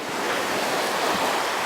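Steady ocean surf rolling in, with constant wash and roar and some wind buffeting the microphone, loud and continuous throughout.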